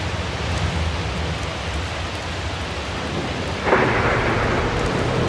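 Steady rain and rolling thunder fill a storm scene in the video game The Invincible, a dense continuous rumble and hiss that swells a little louder partway through, with no voices.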